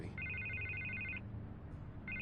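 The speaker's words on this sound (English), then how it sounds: "I can't get the phone to stop ringing." Telephone ringing in the Batman Telltale video game, an electronic trilling ring that sounds for about a second, pauses, then starts again, clear over a low background hum.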